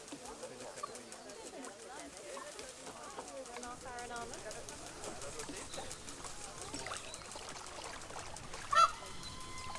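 Geese in the Planet Zoo video game honk in short repeated calls, mid-distance, mixed with someone talking over the game audio.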